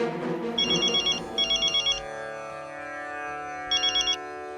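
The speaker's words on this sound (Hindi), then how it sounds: "तू पहले मनु महाराज को फोन कर" A telephone ringtone sounds in bursts of warbling electronic trills in a comedy sitcom scene, ringing twice close together, pausing, then once more, over a sustained musical background.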